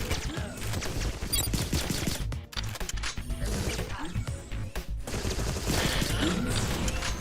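Bots trade gunfire in the video game Agent 64: Spies Never Die, with repeated rapid shots and mechanical clicking layered over a busy game soundtrack, continuous and fairly loud.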